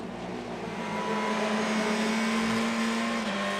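A short-wheelbase front-wheel drive race car at a circuit spins round, its engine droning loudly and steadily with a note that rises slightly and then drops, heard close with no talking.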